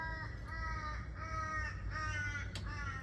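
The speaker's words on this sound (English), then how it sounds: "Good morning, Crow." A crow caws in a garden: a series of about five harsh, evenly spaced caws at moderate distance over steady outdoor background noise.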